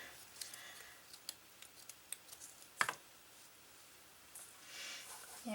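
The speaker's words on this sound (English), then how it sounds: "That tears kind of nicely. Like a couple strips." An old cotton shirt being torn by hand into strips, a short sharp rip standing out among faint scattered ticks and rustles in a quiet room.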